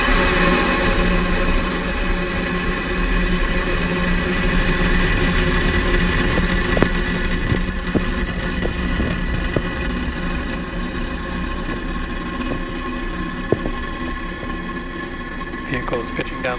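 Rocket engines of a SpaceX Falcon 9 carrying Starlink satellites, roaring at liftoff as a broad, heavy, sustained rumble that slowly eases, with a commentator talking over it and a few sharp crackles near the end.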